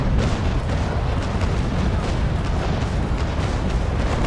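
Ship cannons firing in the naval combat game Naval Action, a continuous dense roar of booming broadside shots rolling together at steady high loudness, with no pauses throughout.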